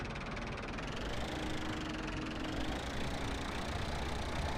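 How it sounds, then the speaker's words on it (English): A small tractor engine in Farming Simulator 17 strains steadily to pull a heavy plough, a dense, continuous mid-range drone that holds at an even, loud level throughout with no talk. "the plough is awfully heavy for this little tractor"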